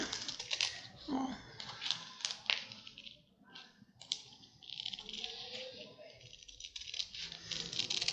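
The edge of a wrist, finger and thumb positioning orthosis is cut, producing a series of close, crisp clicking snips in an irregular rhythm, with a person talking between and over them.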